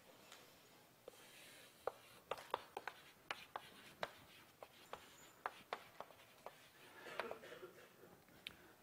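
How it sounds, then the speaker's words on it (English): Chalk taps and scrapes against a lecture-hall blackboard as a multivariable calculus formula is written out, a steady series of faint, sharp strokes with brief pauses between them. "let me first write down the actual formula"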